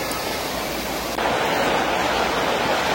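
Steady broadband rush of a river flowing at Curug Leuwi Mangrod waterfall in Serang, Banten, with a gentle, not very strong current; continuous and close, growing slightly louder midway, with no voices.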